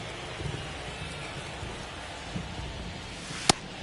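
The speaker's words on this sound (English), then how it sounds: "This rain is not letting up." Rain falls steadily on a ballpark during a baseball game, a soft even hiss throughout with a few faint low thumps and one sharp brief crack near the end.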